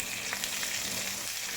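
Pork, anchovies and tomato being sautéed in hot oil in a pan, giving a loud, continuous close-up sizzle with crackling pops and faint stirring and no talk.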